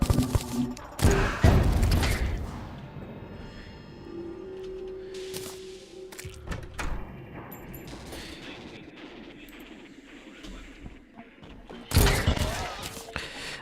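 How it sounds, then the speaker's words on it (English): Plague-tainted SMG firing in Terraria with the Infernum mod, rapid bursts of clipped shots that start loud, then thin into scattered quieter pops and tones before a final heavy volley. "This plague tainted SMG is the most goated weapon of all time."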